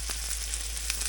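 Frozen Members Mark Angus burger patty frying in a pan, a steady close crackling sizzle with faint stirring ticks, no voices.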